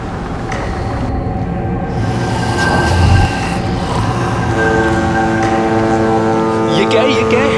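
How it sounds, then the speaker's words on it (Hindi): A ship's engine far off at sea, a steady low drone with a faint tonal hum that holds constant and unbroken throughout. "ये आवाज कहाँ से आ रही है? शायद कोई जहाज होगा।"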